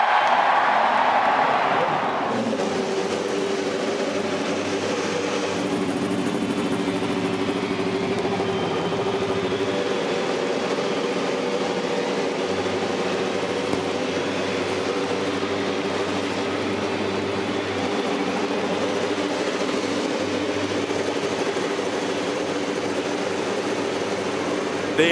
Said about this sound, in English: The engines are fired in the 92nd running of the Indianapolis 500